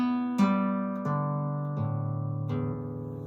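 A guitar's A string is plucked four times in a row. Each note rings clearly and decays before the next pluck, and the pitch shifts slightly from one pluck to the next in a quiet room.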